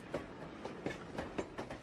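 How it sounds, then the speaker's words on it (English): An armored train rolls along sealed-off track, its wheels clacking over rail joints in a steady repeating rhythm beneath a constant rumble, fairly distant and alone. "He travels on an armored train."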